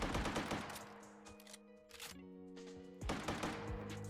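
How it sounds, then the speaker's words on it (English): Rapid repeated gunfire from a player character in the video game Shatterland, a dense fusillade of shots over a tonal game music bed, briefly easing mid-clip before resuming loudly. "Why does my guy just keep shooting?"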